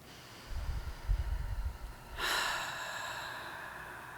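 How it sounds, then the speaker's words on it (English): A person takes a slow, deep breath, a soft rough inhale followed by a longer airy exhale, close and quiet, with no speech. "Taking a nice deep breath again"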